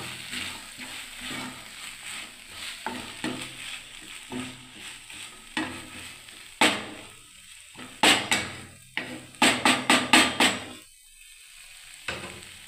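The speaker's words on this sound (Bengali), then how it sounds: "ঢাকা দিয়ে দেবো, একটু ফুটতে থাক রান্নাটা" Vermicelli (semai) cooks in a covered pan with a soft continuous sizzle and bubble, broken by a run of sharp close clinks and scrapes of utensil or lid against metal, with no talking.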